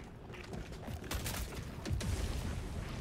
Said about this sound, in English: Firing gas strike.